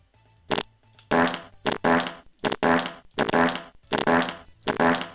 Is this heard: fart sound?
yes